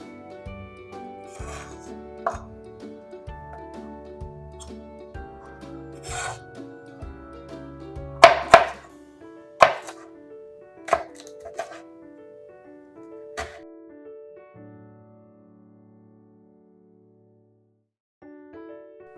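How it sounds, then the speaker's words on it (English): A knife cutting through a bell pepper on a board, a series of irregular crisp chops and scraping rasps, some sharper and louder in the middle, close up, before fading to quiet. "finish cutting the rest of the pepper"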